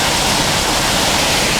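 A waterfall pours into a pond as a loud, continuous broadband rush of falling water, steady and unbroken throughout.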